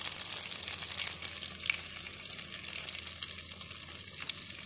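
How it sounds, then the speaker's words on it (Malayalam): Mackerel frying in a pan, a continuous crackling sizzle with scattered sharp pops and spits, fairly close and steady, no talking. "അപ്പോൾ ഇതിലേക്ക് നമ്മൾ ഒരു മീനൊന്ന് ഫ്രൈ ചെയ്തെടുക്കുന്നുണ്ട്."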